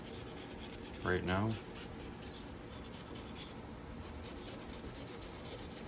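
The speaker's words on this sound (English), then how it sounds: "you can use brass or you can use a very mild brush and just scrape the carbon" A mild brush scrapes carbon off a Cummins NHRBIS engine piston in steady, rasping rubs up close, with a brief spoken remark over the scraping.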